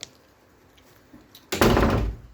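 A door swings shut with a single solid thud, close by, after a short quiet stretch with a faint knock.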